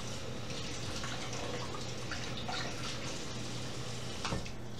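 Steady running water rinses an MRE meal pouch under a tap, a continuous close splashing stream with a low hum beneath and a brief louder splash near the end.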